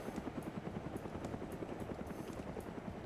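Steady rotor chop of a helicopter in a military video game, a continuous rhythmic thumping over broadband engine noise at moderate distance, with no voices.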